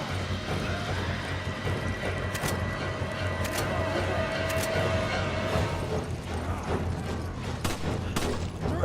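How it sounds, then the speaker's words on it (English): Gunfire in the video game Resident Evil 5 during co-op play, with a few sharp shots punctuating a busy, rumbling game soundscape of clatter and mechanical noise at moderate loudness. "Calm the shots. Calm the shots."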